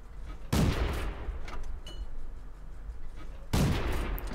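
Rapid tank gun fire from the Renault FT AC in World of Tanks: two heavy booming shots a few seconds apart, loud and close, with a rumbling battle din carrying on between them.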